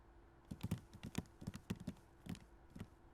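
Several sets of footsteps in the Hakuoki video game tap out a quick, uneven string of soft, close knocks, about a dozen in three seconds, thinning out toward the end.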